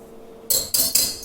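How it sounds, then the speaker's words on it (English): A utensil briefly mixes flour, baking soda and salt in a bowl for a Texas sheet cake, giving three quick, close clinking scrapes against the bowl with a faint hum behind them. "I'm just going to give this a mix."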